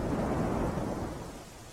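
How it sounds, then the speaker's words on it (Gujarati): Heavy downpour in Gir Somnath, Saurashtra, a dense low roar of rain with deep rumbling, loud and continuous, easing slightly toward the end, with no voices. "સૌરાષ્ટ્રમાં ધોધમાર વરસાદ પડ્યો છે"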